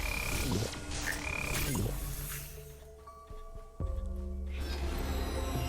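Frog stun ability firing in a co-op action roguelite, a wet croaking frog call with squishy, dripping effects layered over steady game music and rumbling combat noise, loud and close.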